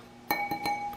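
Thin, round, clear glass lamp shades from a polished chrome Home Decorators Collection Lawrence three-light fixture clink together, giving a few sharp close taps with one bright lingering ring.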